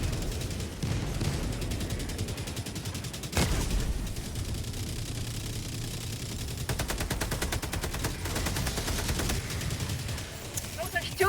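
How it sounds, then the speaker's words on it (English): Video game gunfire in Helldivers 2 as confused bots shoot at things, with dense rapid bursts and sharp shots plus occasional heavier blasts in a loud continuous barrage over background game sound. "here's a clip of some very confused bots shooting at things"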